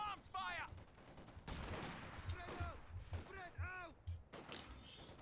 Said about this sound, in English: Small arms fire!